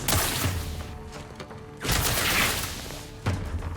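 Gunfire and blasts in the video game The Outer Worlds 2: heavy bursts of shooting come in three waves, each opening with a sharp thump and decaying into a roaring tail.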